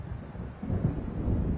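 Low rumbling wind and distant thunder of an approaching storm in Alan Wake build from a quiet start into a steady, swelling roar across the second half, with no voices.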